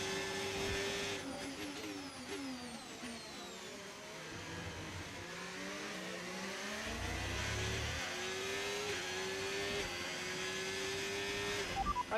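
Formula 1 race car in the game F1 25 suffering a severe engine fault, its engine droning and revving continuously with shifting whines and harmonics for about twelve seconds, steady and loud with no talk over it.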